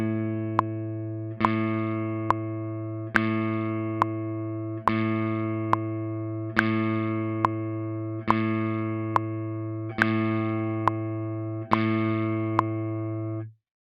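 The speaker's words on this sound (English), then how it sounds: "this is what it sounds like if I play half notes" Open A string plucked alone in slow half notes, about sixteen evenly spaced clear tones, each ringing and decaying before the next, with the strongest accent every other note.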